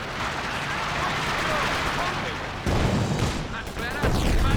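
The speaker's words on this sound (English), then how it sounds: "ISG start up its barrage again as well." In the video game Company of Heroes 2, an ISG infantry gun fires a barrage amid a 2v2 battle, with dense, continuous rumbling booms and explosions and a voice talking over the din.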